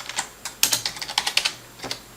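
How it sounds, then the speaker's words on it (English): Rapid keystrokes on a computer keyboard, a quick burst of about a dozen close, crisp clicks in an uneven rhythm, with a short pause before a final few taps. "Very quickly type that in"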